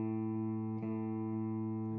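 A guitar's open fifth string rings out as a sustained A note, one steady plucked tone held for about two seconds with a slight re-pluck midway, alone and close.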